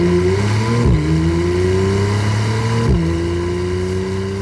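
A naturally aspirated Porsche 911, an S or 4S rather than a turbo, revs hard and close, its engine pitch climbing steadily, dropping sharply at two gear changes, then rising again in a loud, sustained howl.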